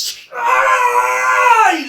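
A voice imitates a man screaming in pain, giving one loud, sustained, wavering wail that slides downward at the end, part of a tabletop fantasy role-playing game jail fight.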